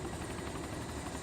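A helicopter's rotor in DayZ produces a steady, loud, thick whirring drone that continues evenly throughout.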